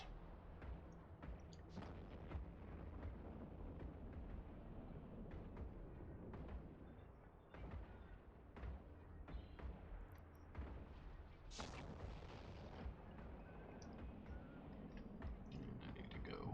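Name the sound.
weapons firing in EVE Online video game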